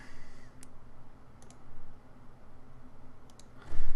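Several sharp, isolated mouse clicks while editing in Photoshop CS6, spaced irregularly over a quiet background hum, with a small cluster near the start and another near the end.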